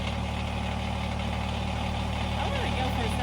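A diesel tractor engine idling, a steady low rumble with a regular throb, continuous and close, with people talking over it.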